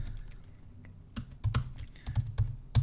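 Irregular clicking of typing on a computer keyboard while editing a welcome page, keystrokes coming in close bursts that grow louder toward the end, alone with no talk.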